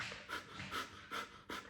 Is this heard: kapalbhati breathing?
yes